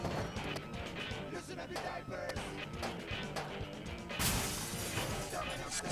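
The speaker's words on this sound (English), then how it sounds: "I'm just crashing into everything here." Car in Smashing Drive crashing into objects, with dense shattering and smashing noise over driving game sounds and a bright burst of breaking glass near the end.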